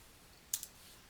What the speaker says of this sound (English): press the Enter key on your keyboard to create the new subfolder